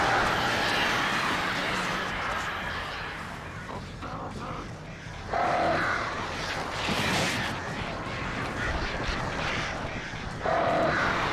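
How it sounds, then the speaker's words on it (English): Crows cawing in the video game Alan Wake, several harsh calls rising out of a loud, dense rumbling game soundscape. "Get out of here, birds."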